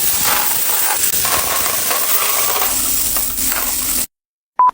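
Loose coins from piso net computer-rental coin slots clatter and shuffle in a dense, continuous metallic jingle while being counted. The sound is close and fairly loud, then cuts off abruptly before a brief tone near the end.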